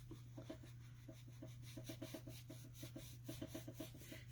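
A stamped paper image is rubbed hard, producing a steady series of soft, rhythmic scraping strokes close by over a constant low hum.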